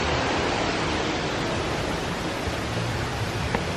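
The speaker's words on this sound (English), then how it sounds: "This waterfall makes a soothing sound." The Copper Creek waterfall at Disney's Wilderness Lodge gives a steady, full rushing roar of falling water. It is loud and unbroken from start to finish, with no voices.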